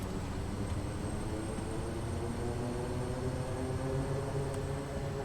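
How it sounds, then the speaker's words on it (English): Quest Kodiak turboprop in a flight simulator applying reverse thrust on the runway after landing, a steady broadband propeller and engine roar that holds constant and loud throughout, with no talk. "Reverse thrust."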